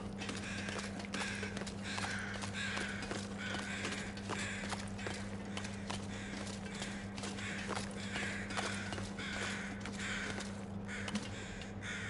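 Crows caw repeatedly in the snowy wilderness of the video game The Long Dark, their harsh calls coming in irregular bursts over a steady low hum and soft crunching footsteps, with no voice.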